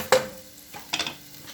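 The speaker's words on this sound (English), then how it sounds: "We want to simmer this garlic and onion, butter, oil mixture for about 30 seconds" Garlic, onion, butter and oil sizzle softly in a pan, with a faint steady fry and two brief sharper bursts of crackle, likely from stirring.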